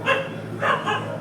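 A dog gives two or three short barks somewhere near an outdoor village religious discourse, moderately loud against a steady background hum.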